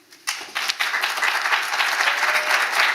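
Audience applause welcoming a panel at a women in sport discussion begins with a few claps, then swells into sustained, dense clapping from a large crowd.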